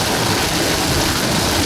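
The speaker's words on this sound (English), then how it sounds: "It's a pretty rainy day" Steady rain hisses continuously around a car driving down California 14, a dense, even wash of noise with no breaks.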